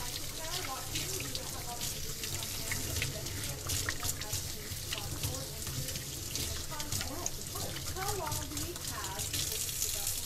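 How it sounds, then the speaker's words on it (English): Tap water runs steadily into a sink during hand washing in a home kitchen, a continuous splashing hiss with soft shifting bubbles, while people talk over it. "Wash my hands, you wash yours."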